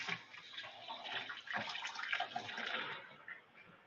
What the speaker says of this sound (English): So let me rinse these off real quick.